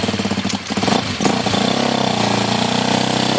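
A motorcycle, choke just switched off, is held at a slightly raised idle after a brief rev, settling into a steady, close, loud mid-pitched engine drone while its drive chain dries.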